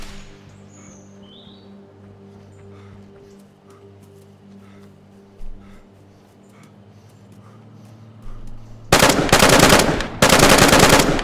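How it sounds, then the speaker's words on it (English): Gunfire in the video game DayZ: two loud, close bursts of rapid shots near the end, after a quiet stretch of outdoor ambience with faint birdsong. "I'm getting shot at"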